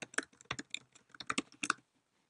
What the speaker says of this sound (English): I'll just type the name of my project